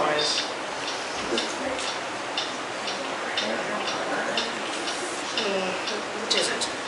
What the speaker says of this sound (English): What is that mysterious ticking noise?